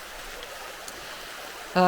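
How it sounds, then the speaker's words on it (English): McGahey Brook runs as a steady, soft broadband wash of flowing water heard from nearby, continuous and even, with a voice beginning to speak at the very end. "I would have been coming down the stairs so I could cross McGahey Brook here"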